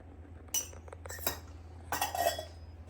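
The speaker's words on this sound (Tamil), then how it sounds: "ஸோ இப்போ நம்ம வந்து நல்லா கிளறிட்டோம்" Metal ladle scraping and clinking against a pot while stirring Dindigul-style mutton biryani with ghee, a few soft irregular knocks and scrapes, close and fairly quiet.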